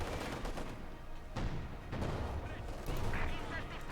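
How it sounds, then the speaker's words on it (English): Artillery strike and gunfire in the Company of Heroes 2 video game, Wehrmacht against Soviets: dense, continuous rattling bursts with heavy booms layered throughout, loud and sustained for the whole stretch. "Artillery strike here on the centre as well, pushing back the field and crew and the other supporting elements nearby."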